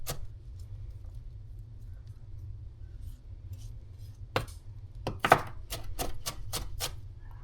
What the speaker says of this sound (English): All right, green pepper chopped.